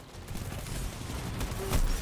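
Bass Cannon weapon firing in Destiny 2 during a PvP invasion: a dense, rumbling burst of heavy fire building toward a sharp, loud blast near the end, close and without talk.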